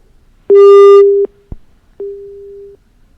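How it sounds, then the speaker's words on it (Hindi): A telephone busy tone sounds after a call is cut off: two separate steady beeps with a click between them, loud and clean, with no talk. "राजीव कुमार जी ने हमारा फोन डिस्कनेक्ट कर दिया है।"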